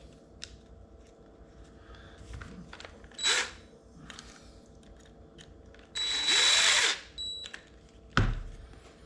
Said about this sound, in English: So used to using these drills at work.